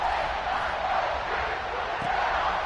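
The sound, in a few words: stadium crowd cheering in NCAA 26 football video game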